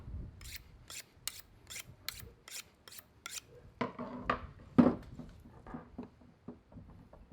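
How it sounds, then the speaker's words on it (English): A knife draws through the belly skin of big Texas blacktip shark fillets in a run of about a dozen crisp, evenly spaced rasping strokes, then slower, irregular cuts and scrapes, close and fairly loud with no talk. "Just put your knife in and cut toward the belly skin."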